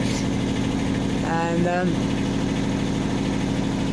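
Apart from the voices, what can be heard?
boat engine idling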